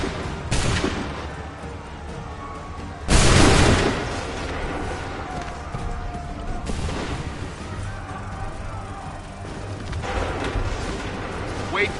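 Massed musket volleys roar across an Assassin's Creed 3 battlefield. Four heavy crackling salvos come several seconds apart over a constant din of battle, with shouted voices mixed in.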